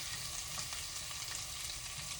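Cauliflower frying in a pan as fresh-cut onion is added, giving a steady, continuous sizzle and crackle with no voices.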